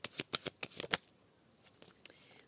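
A deck of tarot cards is cut by hand, giving a quick run of crisp, close papery snaps and flicks for about a second, then near silence with one faint card tap.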